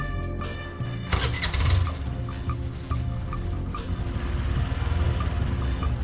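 A scooter's engine starts as a young woman wheels it out to ride to college, catching with a broad burst and then settling into a steady, nearby idle hum.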